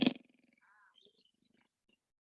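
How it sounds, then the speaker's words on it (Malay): A tiger roar sound effect, one short loud growling burst at the start that trails off into faint rumbling, followed by soft quiet sounds and near silence. "Bunyi apa? Tiger."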